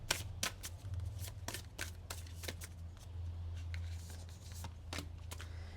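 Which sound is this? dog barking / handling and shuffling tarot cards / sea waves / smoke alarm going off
handling and shuffling tarot cards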